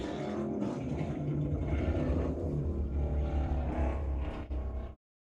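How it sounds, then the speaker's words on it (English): Loud trucks rumble past outside in a continuous low, heavy engine drone that holds steady for several seconds before cutting off abruptly. "There's so many loud trucks today"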